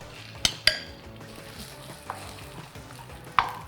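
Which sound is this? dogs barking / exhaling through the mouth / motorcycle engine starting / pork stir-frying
pork stir-frying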